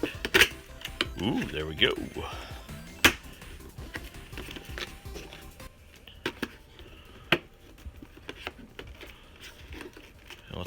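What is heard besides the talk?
unboxing Retrobit N64 controller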